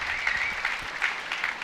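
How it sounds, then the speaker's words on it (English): Brief cheer and clapping from a small crowd of barebow archers at an indoor CanAm shootdown tournament, a steady rustling burst that holds for under two seconds with no talk over it. "The Barebows gave us a little bit of a cheer with a 14"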